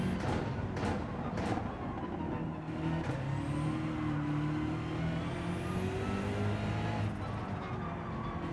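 Gran Turismo 7 Gr.3 race car in lobby racing, its engine droning and rising steadily as it accelerates, with a continuous close engine note and harmonics shifting up through the whole stretch, no voices.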